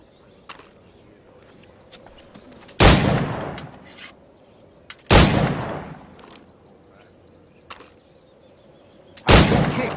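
Three loud, sharp firearm shots in Assassin's Creed 4 Black Flag, each a booming crack with a decaying tail, spaced a few seconds apart over quiet ambience with faint clicks and a high hum.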